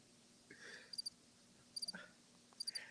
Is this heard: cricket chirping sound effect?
yes